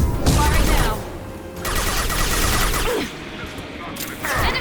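Gunfire in the video game Mass Effect 2 Legendary Edition, with loud rapid bursts of weapon fire in two or three clustered volleys separated by brief quieter gaps, with combat effects around them.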